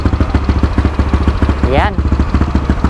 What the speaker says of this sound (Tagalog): Paparinig ko sa inyo yung lutong ng KAOU na gamit ni boss